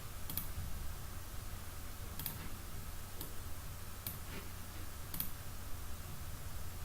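Mouse clicks in the Godot Engine editor: about five sharp, faint, evenly spaced clicks over a low steady hum.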